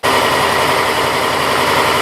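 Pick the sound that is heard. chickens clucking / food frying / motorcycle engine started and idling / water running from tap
motorcycle engine started and idling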